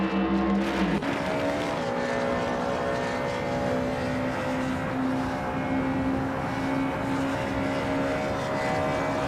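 Race cars on a circuit, among them a 1993 Porsche 968 Turbo RS, give a steady, loud engine drone with sustained tonal whine and no pauses, one car seemingly passing close in the opening second before settling into continuous roar.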